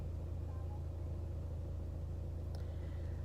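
Steady low traffic rumble from cars idling and moving in a full, cold outdoor car park, a continuous drone with a brief brighter click near the end and no speech.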